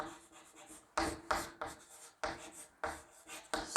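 Chalk or marker writing an equation on a classroom board, a series of short scratchy strokes in uneven bursts with brief pauses between, close and fairly loud, no talking.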